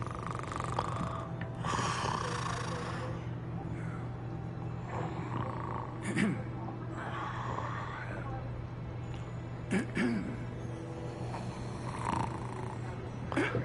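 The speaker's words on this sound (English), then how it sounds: "Buddy snoring." Slow, rumbling snores from a sleeping character in Hogwarts Legacy, repeating in long rasping breaths over a steady background drone, with some speech mixed in.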